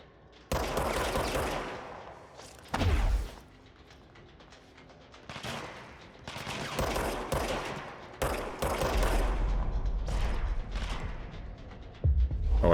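Gunfire from the video game Control comes in loud, dense bursts of rapid shots separated by brief quieter gaps, with heavy low thumps and mechanical clatter between volleys.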